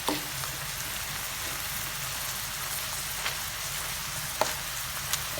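Pancit noodles with broccoli frying in a pan, a steady dense sizzle holding at an even level throughout with a few faint clicks of utensils, close and without talk.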